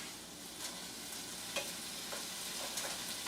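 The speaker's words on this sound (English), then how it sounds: "You're just gonna have to trust me when I'm saying I'm stirring it here" Chicken sizzles steadily in a pan while being stirred, a faint continuous frying hiss with a few soft scrapes and clicks of the utensil scattered through.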